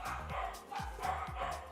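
Several pet dogs just back from obedience school bark and yip excitedly, close and loud, in repeated overlapping bursts with short gaps between them.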